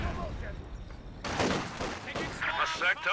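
Gunfire and light artillery from an Su-76 in a World War II strategy game battle over victory points, with bursts of shots and booming blasts clustering in the second half, mixed with busy battle noise.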